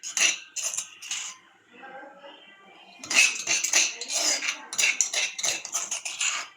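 Dishes and cutlery clink and scrape as cooked food is moved onto a plate in a home kitchen, sharp close metallic taps in quick bursts with a softer pause in the middle.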